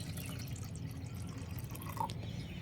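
Homemade liquid peel fertilizer for roses is strained, giving a soft continuous trickle and dripping of liquid, faint and close, with one small splash near the end.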